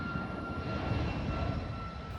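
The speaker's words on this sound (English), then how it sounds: "And we'll just let that airplane pass." A fixed-wing airplane flies overhead about two miles from Hobby Airport, a steady, loud broadband engine roar with no pauses across the whole stretch, and no one talks over it.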